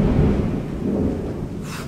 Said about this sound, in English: That thunder.